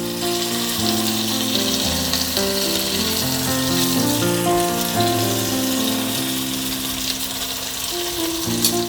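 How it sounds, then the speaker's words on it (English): Chicken breast sizzles steadily in a pan over high heat, a continuous frying hiss running the whole time with music playing over it and no talking. "chicken breast doesn't take that long to cook when you're cooking it at this high temperature"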